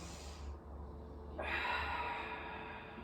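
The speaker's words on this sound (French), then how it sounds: "j'inspire par le nez" During a Pilates relaxation exercise, a slow steady inhalation through the nose builds into a sustained airy draw that lasts about a second and a half, close and fairly quiet.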